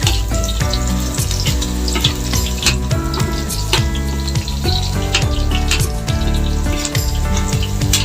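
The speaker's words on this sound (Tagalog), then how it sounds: "Yan na po ang ating bawang mga kaibigan. Ginigisa ko na po." Garlic sautéing in hot cooking oil gives a steady, close, loud sizzle that runs without a break and has no talk over it.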